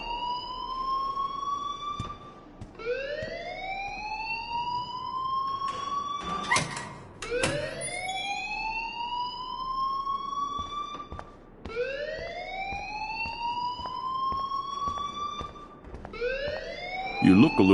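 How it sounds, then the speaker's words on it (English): A rising, whooping electronic fire alarm in the video game Life Is Strange, with repeated swelling siren sweeps, loud and continuous, and brief knocks and clatter between cycles. "please turn off that alarm since that's your job"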